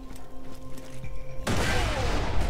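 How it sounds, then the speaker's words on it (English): Gunfire in the video game Borderlands 2 bursts in halfway through, a loud sustained volley of rapid shots and booms that follows a quieter stretch of game background hum. "then switch to a fire weapon for the last few shots"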